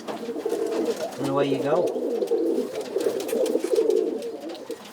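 Roller pigeons cooing during pairing in a breeding loft, a soft rolling coo repeated in low bursts close by, with someone talking over it.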